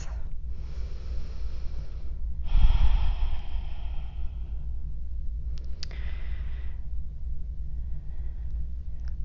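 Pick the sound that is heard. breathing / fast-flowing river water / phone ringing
breathing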